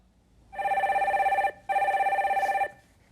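A telephone rings in two long electronic bursts with a short gap between them, loud and clear with no voices over it.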